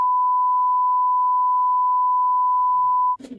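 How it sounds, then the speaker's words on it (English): A steady pure censor beep tone holds for about three seconds and then cuts off abruptly, followed by a brief burst of speech. "I have to bleep that"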